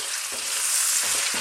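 Fresh tomato sizzles as it fries in a pan with Scotch bonnet for Jamaican coconut chicken, a loud, steady hiss with a few soft stirring thuds.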